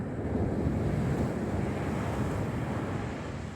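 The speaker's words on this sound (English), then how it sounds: "But we're getting a few little waves" Small sea waves wash steadily onto Lowestoft North Beach, a continuous broadband surf rush with wind buffeting the microphone, no voices.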